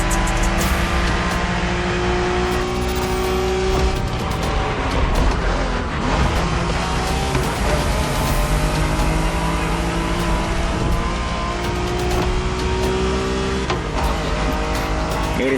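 Cars revving hard through a Japanese street race in The Crew Motorfest: loud, continuous engine roar with rising and falling gear-change pitches and occasional tire squeal, close and alone with no talk.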